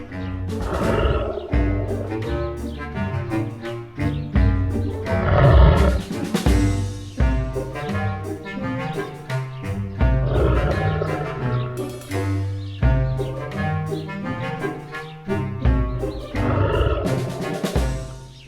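A lion roars repeatedly in a jungle setting, deep and forceful, over a continuous musical backing in a loud, layered mix.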